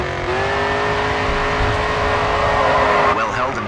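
Race car drifting through a corner in the GRID 2 racing game, a steady engine drone with a sliding tyre whine throughout and a voice talking over it.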